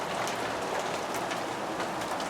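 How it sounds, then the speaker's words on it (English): Cold winter rain falling steadily outdoors, a dense continuous hiss of drops on surfaces, even and unbroken throughout with no voices. "genuine, wintertime, cold, wet rain."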